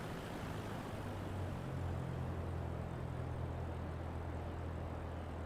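Steady droning hum of a Cessna light aircraft engine on landing approach in Microsoft Flight Simulator 2024, a constant low engine tone with no breaks, heard alone at moderate loudness.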